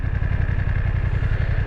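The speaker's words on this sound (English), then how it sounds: "The engine sounds lovely." A BMW F900 XR motorcycle engine idles close by with a steady, throbbing low pulse and a V-twin-like beat, running evenly and loud with no voices.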